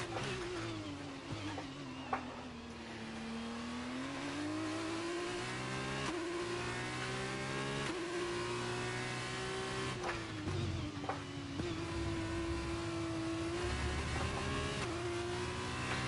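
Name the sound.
race car engine downshifting in F1 23 video game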